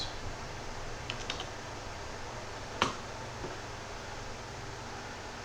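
A few scattered keystrokes click on a computer keyboard, a small cluster early on and then one sharper tap, heard close over a quiet background hiss.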